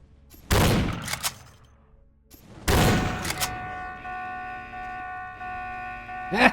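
Gunfire in the video game Vampire Bloodlines: two loud booming shots a couple of seconds apart, each with a ringing tail, followed by sustained tonal game sounds and a final sharp thump.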